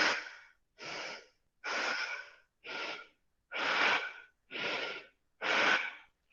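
Forceful Bhastrika yoga breathing, the belly pumping in and out while standing straight: seven loud, rhythmic, close-up breaths of roughly even length and spacing, each separated by a short silence.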